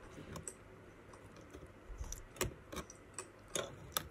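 A keycap clicking as it is pried off an Apple keyboard, a few quiet, sharp plastic clicks spaced apart over a soft background.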